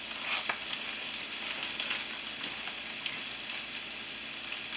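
An omelet with ham sizzling steadily in a frying pan on the stove, a soft continuous fry with faint crackles and a few light pops, without any talking.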